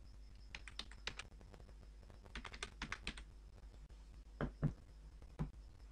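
Bursts of quick typing on a computer keyboard while details go into an online form, close clicky keystrokes in runs with pauses and a couple of heavier presses near the end, no talk.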